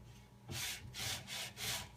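A damp sponge rubbed back and forth over a painted wooden piece to distress the paint, making four rhythmic scrubbing strokes that are soft and close, with no voice.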